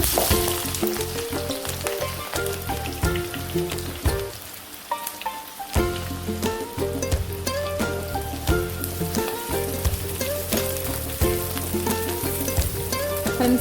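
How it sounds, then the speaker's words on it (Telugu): Chopped onions and green chillies hit hot oil in a pan for a korameenu fish curry, giving a loud, close, continuous sizzle with crackling pops that briefly dips before surging again. "ఆయిల్ వేడెక్కిన కదండి మనం తరిగిన ఉల్లిపాయలు పచ్చిమిర్చి వేసేసుకుందాం"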